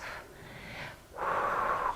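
Heavy effortful breathing during a workout exercise: two strained, wheezy breaths, a softer exhale then a longer, harsher rasping one, close and alone with no talking.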